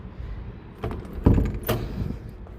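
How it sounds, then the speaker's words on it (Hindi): A house door swung shut with a dull, close thump and a short rattle of the latch, after some shuffling and handling noise and followed by faint movement. "दरवाज़ा बंद करते हैं"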